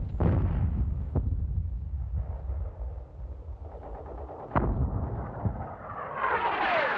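Wartime artillery fires smoke shells: repeated heavy booms and rumbling blasts, some sharp and near, others rolling and distant, over a continuous low battlefield roar.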